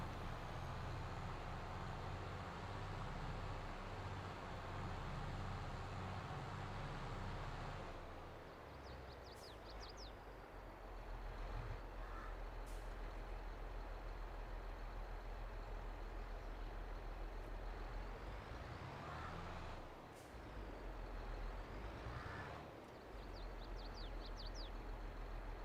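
A vehicle drives across a field in Farming Simulator 22 with a steady, loud engine drone and rumble throughout, its tone shifting midway, with a few faint hisses and squeaks and no talk.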